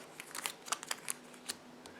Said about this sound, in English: I gotta shuffle these too.